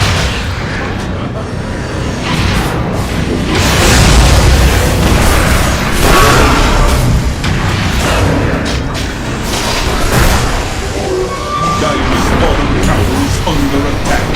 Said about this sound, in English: Radiant's top tower is under attack.